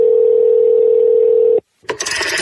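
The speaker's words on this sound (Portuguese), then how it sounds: "Ei, alguém atende de telefone?" A steady continuous telephone tone holds for about a second and a half, then cuts off abruptly, followed by a short gap and a burst of noisy clatter.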